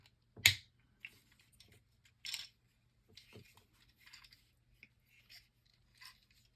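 A Transformers Titans Return Blitzwing toy's plastic canopy lifting and nose cone flipping into place, a few sharp isolated clicks and snaps with small rustles between them, close and quiet.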